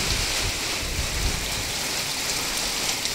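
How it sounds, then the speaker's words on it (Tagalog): Heavy rain pours down steadily during a typhoon under signal number 1, a dense, loud, unbroken hiss of drops on surfaces with a faint low rumble beneath and no voices. "Bagyo, signal number 1 kami dito."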